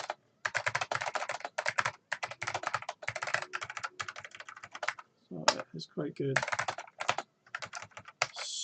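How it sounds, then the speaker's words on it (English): Quick bursts of keystrokes clatter on a computer keyboard throughout, pausing briefly now and then, while someone talks over the typing near the end. "it lets you think about what you're going to do while you're typing it all in"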